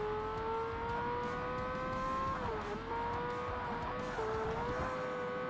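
A race car in Forza Motorsport on stock tyres drives through corners with a steady, loud engine drone that holds pitch, dips briefly as it shifts or lifts, then climbs again, with faint tyre noise underneath.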